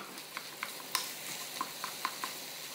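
Ground beef and onions fry in a pan, a constant hissing sizzle broken by repeated sharp scrapes and taps as the meat is crushed and separated, close and with no talking.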